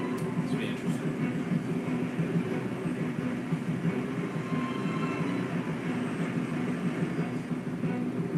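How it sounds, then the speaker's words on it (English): A train rolls steadily into a station in a TV drama, a dense continuous rumble of wheels and carriage noise running throughout with no clear breaks. "We see the train approaching a train station and guarded by several soldiers dressed in black."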